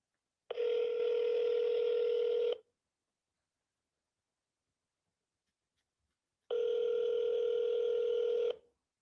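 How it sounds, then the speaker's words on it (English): A telephone dial tone sounds in two clean, steady bursts of about two seconds each, separated by roughly four seconds of silence, while calling a state representative's office; no one talks. "I'm just going to call and leave a message so you guys can kind of hear what it sounds like"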